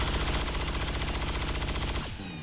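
Heavy weapon gunfire in the video game XCOM 2, a loud, rapid burst of automatic fire hammering continuously for about two seconds, close and dense, then cutting off into a ringing tail.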